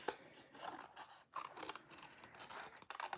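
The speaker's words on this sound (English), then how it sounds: "And so I'm going to just fussy cut her out." Scissors fussy-cutting a printed paper image out of mixed media paper, heard as close, quiet snips and crisp paper scratching in an uneven rhythm of short cuts.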